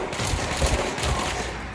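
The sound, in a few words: gunfire in the video game Control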